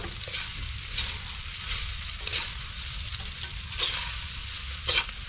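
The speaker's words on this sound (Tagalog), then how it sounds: "tayo ay magsasangag muna" Leftover cooked rice stir-fried in a hot pan, a steady sizzle and hiss with scraping, stirring strokes and occasional louder clatters of the spatula, close up with no talking.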